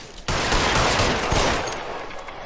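Gunfire in the detective video game LA Noire, a loud sudden fusillade of rapid shots that breaks in after a brief quiet and keeps going as a dense, echoing barrage before slowly easing off.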